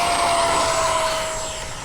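A radio-controlled Lightning model plane flies overhead at an airfield, its steady high-pitched engine whine holding loud and even before easing slightly as it moves away.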